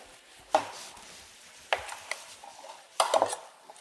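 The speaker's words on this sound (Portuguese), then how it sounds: "Vou cortar ela em cubos" A knife chops cold butter into cubes on a board, giving a few sharp, separate taps with quiet pauses between them.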